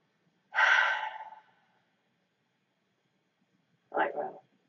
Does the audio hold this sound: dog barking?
no